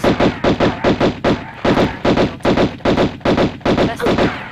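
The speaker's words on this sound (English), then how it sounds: "The best thing you can do is to shoot him until he backs away" Pistol gunfire from Lara shooting an enemy in the 1996 Tomb Raider game, a loud rapid rhythmic string of about a dozen evenly spaced shots, each a short punchy crack, with no talking.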